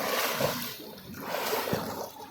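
Water sloshes and splashes in a swimming pool as someone plays around, with soft irregular splashes and trickling at moderate level, no speech.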